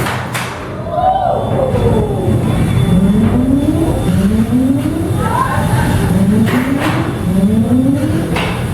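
A 1.36 kg melty brain combat robot with a vertical spinner spins up in an arena, its whine rising repeatedly in pitch in quick sweeps, loud and close, with thuds around it.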